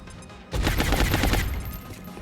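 Gunfire in the XCOM: Long War video game: a sudden loud, dense burst of rapid shots, close and sustained for about a second before trailing off.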